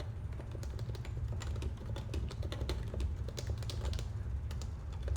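Fingers tap a computer keyboard softly and rapidly, a continuous run of light clicks over a low background hum, close-up and quiet with no voice.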